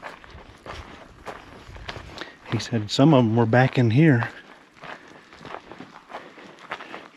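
Footsteps crunching steadily along a forest track in the western mountains, a walker's rhythmic steps close by while someone speaks briefly in the middle.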